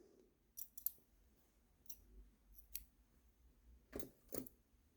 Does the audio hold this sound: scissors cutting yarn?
yes